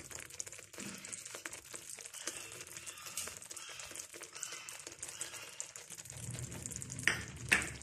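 Small cubes of chicken hit a hot, oily pan and fry with a steady, close sizzle and crackle. Stirring clatters in partway through, and two sharp clinks near the end stand out above the frying.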